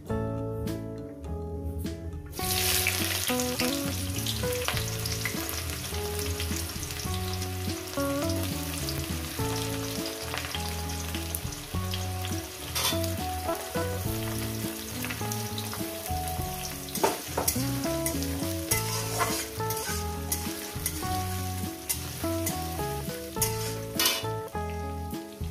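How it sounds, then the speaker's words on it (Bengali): Chopped onions fry in a pan with a split bay leaf and whole garam masala, the base for a fish curry: a loud, steady sizzle with stirring scrapes that runs unbroken throughout, with no talking. "পেঁয়াজটাকে আমি 2-3 মিনিট আমি ভেজে নেব।"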